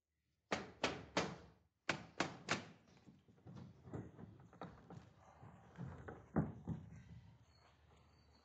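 Hard, heavy pounding on a door: two quick bursts of three loud blows, then a run of lighter, irregular thuds with one more strong hit near the end, close and without speech.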